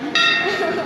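A bell struck hard at a temple during a visit to Kund Mauli, one bright metallic clang with a ringing sustained tone that lingers under background noise.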